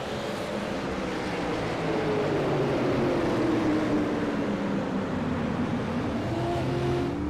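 Race cars at Stafford Speedway roar steadily past, the engine note sweeping down and back up as the pack runs a restart in a weekly short-track series, loud and continuous with no talk.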